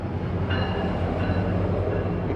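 A train rolls past a boatyard close by with a heavy, continuous low rumble and rattle of wagons, loud throughout the short stretch with a faint squeal of wheels.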